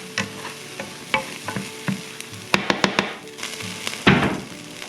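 Beef chunks sizzle and fry in a stew pot while being stirred, with broadband crackle and repeated sharp scraping clicks from a utensil against the pan, loud and close, with no talking.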